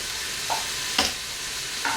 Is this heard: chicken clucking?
no